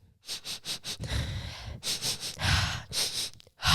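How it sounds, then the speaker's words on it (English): A person sniffing repeatedly at close range, a run of quick short sniffs followed by longer drawn-in breaths and snorts, loud and irregular with no talking. "Just start sniffing."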